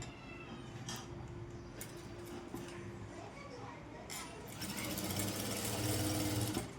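A sewing machine stitches a folded one-inch fabric strip for a Panjabi dress top, running in short bursts and then a longer, louder run, with a voice talking over it.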